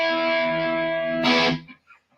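A guitar runs through a distortion pedal with a morph knob that changes the distortion's flavor, holding a sustained buzzing distorted chord that swells briefly before cutting off into a short decaying tail.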